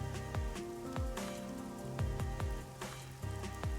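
Rain falling in a video game, a steady patter of drops striking a surface with a sustained hiss, accompanied by a low tonal game backdrop and periodic soft thuds.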